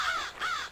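A crow in the video game Bloodlust: Vampire Shadowhunter gives two loud, harsh caws in quick succession, close and clear.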